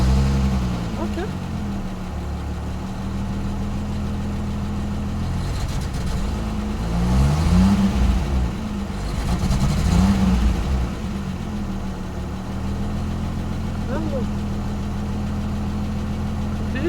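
A Peugeot 505 V6 with a manual gearbox and an acceleration fault idles with a steady low rumble, then revs up twice in smooth swells before settling back to idle, heard close with someone talking over it.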